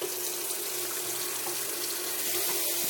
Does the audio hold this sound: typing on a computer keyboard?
no